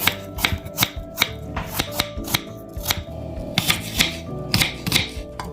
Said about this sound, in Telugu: ఇప్పుడు ఫ్రూట్స్ కట్ చేసేద్దాం.